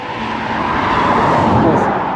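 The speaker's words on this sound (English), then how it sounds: "Oh, look at that, middle of nowhere, and there's a car." A car drives past on a quiet countryside road in Leicestershire near Belvoir Castle. Its broad, steady tyre-and-engine roar is loud and close and fills the whole moment.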